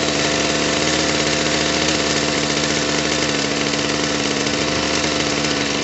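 A RedMax GZ23N edger's small two-stroke engine idles steadily and loudly up close, a constant buzzing drone with no breaks and no voices.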